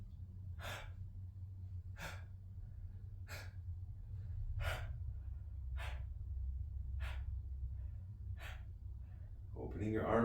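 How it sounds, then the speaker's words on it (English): Sharp gasping inhales, repeated about eight times at a steady rhythm of roughly one per second, drawn through an open mouth as startle breaths during an advanced bioenergetic exercise, over a low steady background hum. "bring in the startle breath"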